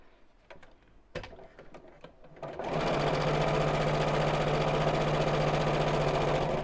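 Sewing machine stitching fabric for a biscornu pouch, starting after a few light clicks and handling noises, then running steadily and loudly as a fast, even mechanical whir to the end.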